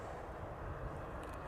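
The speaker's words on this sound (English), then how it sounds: "Tiny squeak as that one touches down." A passenger jet touches down at East Midlands Airport with a faint brief tyre squeak, set in a steady broadband engine roar heard from a moderate distance.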